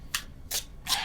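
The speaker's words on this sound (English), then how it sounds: "I was just moving the cards." Tarot cards are moved and shuffled by hand, giving three quick, papery riffling swishes at an even pace, close up and with no one speaking.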